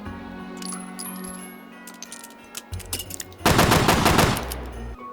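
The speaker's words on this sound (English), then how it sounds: "Colt Detective Special is that classic .38 special revolver that you've seen in just about every detective movie" Colt Detective Special .38 snub-nose revolver firing in the H3VR game, a few sharp shots with clicks and mechanical clatter, followed by a loud dense rattling burst near the end, all close and without speech.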